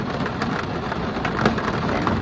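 Steady rain pours down outdoors, a dense continuous hiss of drops hitting surfaces, with a faint low rumble underneath and no voices.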